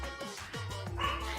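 Cartoonish dog barking from the Danganronpa V3 video game, a few yapping barks in quick succession over a steady game soundtrack.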